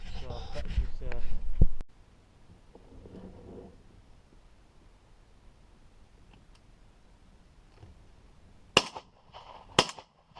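Shotguns fired at pigeons over decoys in a bean field, two sharp distant bangs late in the clip after muffled talk and handling noise at the start.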